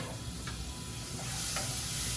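Onion and garlic sizzle in a pan as a steady, even hiss with faint crackles, close and continuous throughout, no voices.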